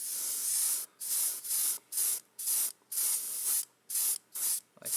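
An airbrush sprays candy metallic paint in short, repeated hissing bursts, about nine sharp spurts separated by brief pauses, close and clear with no talking.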